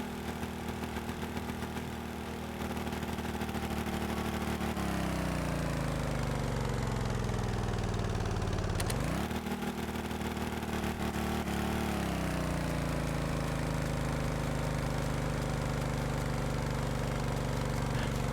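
A manual-gearbox vehicle engine idles steadily after stalling, with a low continuous drone that sags in pitch and surges back as it is revved and restarted, running alone without talk.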